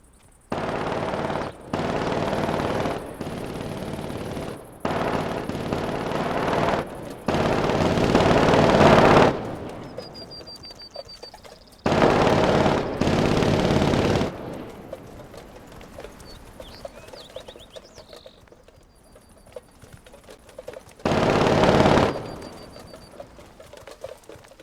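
Mounted Browning machine gun on a turret in the shooter game The Division, firing several long sustained bursts separated by short pauses, loud and close, with no talk over it.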